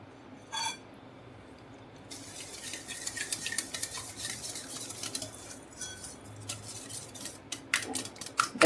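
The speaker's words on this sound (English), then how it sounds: "Mix this very well." Cake batter made with curd, vanilla and oil is stirred in a bowl: steady scraping and sloshing with occasional clinks of the utensil against the rim, close and continuous after a brief quiet start.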